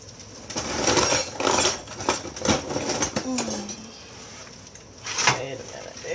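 Kitchen utensils rattle and clatter while someone digs through them for another spatula in a home cooking session: metallic clinks and scrapes come close and uneven for several seconds, with a voice speaking over part of it.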